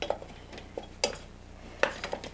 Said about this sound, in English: I'm using my olive wood spoon from my trip to Israel